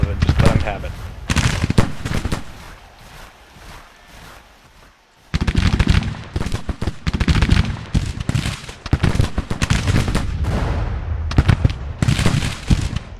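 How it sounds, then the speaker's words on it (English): Musket volleys rattle across a Civil War battlefield in the game Grand Tactician: The Civil War, with irregular crackling bursts near and far, a brief lull, then heavier firing. "They are taking pot shots at us"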